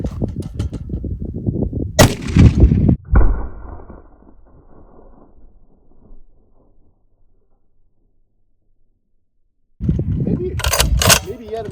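A .50 BMG rifle fires into a termite mound with one loud, sharp report followed by a ringing decay, with someone talking before and again shortly after outdoors.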